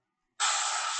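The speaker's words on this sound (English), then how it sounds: "I'm spraying down the side with the card in place." After a moment of silence, an airbrush or spray can bursts into a steady, close hiss, painting down the side of a Death Company Land Raider Proteus model tank with a card held in place as a mask.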